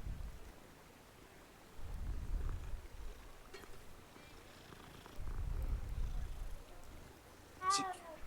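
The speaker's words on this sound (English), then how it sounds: "There's a cat that spawned right in front of me." A cat in Hogwarts Legacy purring in low, rumbling swells, then giving one short, clear meow near the end over a quiet ambient background.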